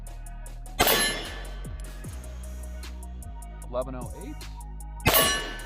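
Pistol shots from a Smith & Wesson Shield Plus Carry Comp during a chronograph velocity test, two sharp loud cracks several seconds apart with metallic clangs in between and a brief spoken number.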